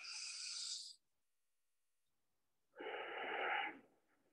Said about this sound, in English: So let's take 3 more breaths here.